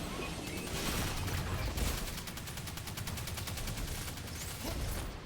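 Sustained gunfire in the video game Destiny 2: Shadowkeep, a dense rapid volley of shots running continuously and loud throughout.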